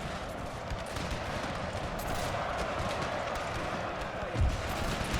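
Continuous distant gunfire and artillery bombardment from howitzers in the Pike and Shot strategy game's Scotland versus England battle, a dense crackling barrage with a heavier boom near the end.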